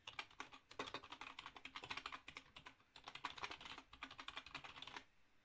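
Rapid bursts of keystrokes on a computer keyboard, entering a web address in a Linux desktop menu setup, clicking close and clear in quick irregular runs with brief pauses between groups.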